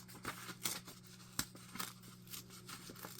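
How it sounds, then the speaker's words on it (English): Paper is ripped by hand for a card-making challenge in a series of short, crisp tearing bursts, close and moderately quiet, with no talk. "I think I'm gonna rip this"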